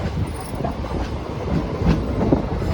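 A Lucknow to Prayagraj Intercity Express train runs with a steady, loud, low rumble, rattling carriages and faint wheel clatter, heard from inside close up.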